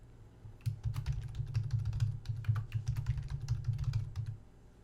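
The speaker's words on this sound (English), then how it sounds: "Type it in twice to verify it." Fingers type a password on a computer keyboard in a steady run of rapid key clicks lasting several seconds. The clicks sound close up over a low hum.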